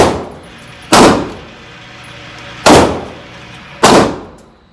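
Three loud, sharp gunshots ring out at an outdoor gun range, spaced one to two seconds apart. Each crack is close and booming and trails off in a long echoing decay, with no talk over them.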